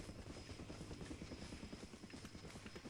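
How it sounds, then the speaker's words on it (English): Helicopter in the video game Far Cry Instincts Evolution, a continuous rapid rotor thump with an engine whine, steady and moderately close, heard on its own. "Hello, Mr. Chopper."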